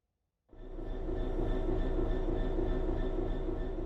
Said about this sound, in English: This is a BR Class 66 diesel-electric locomotive